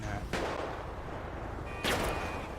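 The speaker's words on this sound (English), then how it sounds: "Is that dude shooting at me?" Two sharp gunshots in GTA 5, one near the start and one near the end, firm and fairly close, with a voice talking around them.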